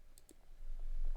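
A few light, crisp keyboard key clicks while modelling low-poly shapes, including a tap of the E key, quiet and close with some soft background noise.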